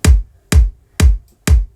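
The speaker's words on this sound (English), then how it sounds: "So the kick that we use is from Kick 2" Kick drum from the Sonic Academy Kick 2 plugin, tuned to F sharp, heavy in the low end with a clean punchy top: four loud, evenly spaced hits about half a second apart, each decaying quickly, played solo.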